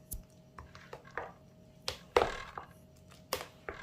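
A fruit salad of buko pandan mixed with condensed milk being stirred in a bowl, with irregular soft thuds and scraping taps spaced across the moment, close by, no voices.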